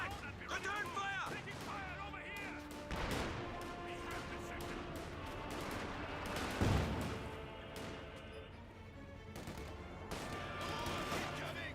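Machine gun and rifle fire from the World War II strategy game Company of Heroes 2, with MG42 bursts and scattered rifle shots crackling through a busy battle mix, overlaid by a commentator's voice.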